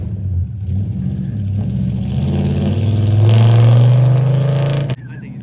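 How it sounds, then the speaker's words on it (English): A 1971 Chevy K20 flatbed pickup with a 4-inch lift revs hard as it pulls away in a shop yard, the engine note climbing to a loud, rising roar before cutting off abruptly near the end. "Reed's stealing my truck."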